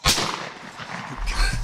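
A single loud, close shotgun blast fired at a turkey during a spring hunt, with a sharp crack and booming tail echoing across open woods. A second heavy low thump follows about a second later.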